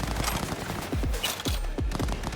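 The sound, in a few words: gunfire in the video game Cyberpunk 2077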